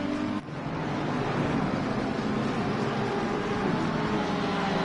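A Lamborghini race car engine in a racing video game at Paul Ricard, a loud, steady, continuous mechanical roar that holds for several seconds with a brief dip near the start.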